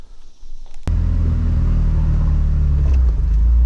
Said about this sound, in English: go take the Miata for a test drive